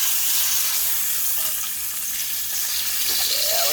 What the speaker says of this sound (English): we're going to put a decent sear on this